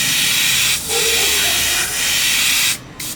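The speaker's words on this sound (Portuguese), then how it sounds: "Mas menos granulado, um spray bem uniforme" An airbrush sprays paint with the air pressure turned up, giving a loud, smooth, even hiss. The spray cuts out briefly twice and stops near the end before a short final burst.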